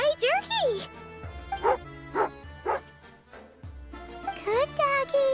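The dog Tagarin in Genshin Impact gives several short barks and yips, close and clear, spaced irregularly between whiny, whimpering vocal sounds and bits of voice.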